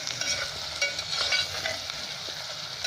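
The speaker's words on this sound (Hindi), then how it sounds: "इन प्याज़ों को ज़्यादा नहीं भुना जाएगा, बस थोड़ा सा हल्का सा गुलाबी हो जाए बस।" Sliced onions frying in a pan with salt, cooked only until lightly pink, hiss and crackle steadily while a spoon stirs them, close and continuous.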